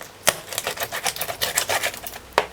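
A kitchen knife cuts through bone-in chicken breast on a board, giving a quick series of sharp clicks and crunches, close and fairly loud, with no talk.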